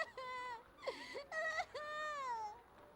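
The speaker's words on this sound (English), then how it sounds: "There's a child crying somewhere." A child crying in the video game Radiata Stories, a series of wavering high wails and whimpers in several drawn-out bursts, fairly close and clear, no other sounds.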